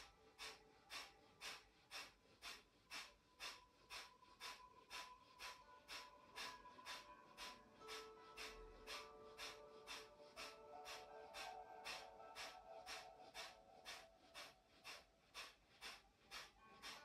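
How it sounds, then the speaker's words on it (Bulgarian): Rhythmic, forceful breathing during a breathing exercise, quick even breaths at about two per second, close and steady, with pace and intensity holding throughout. "Регулираме дишането"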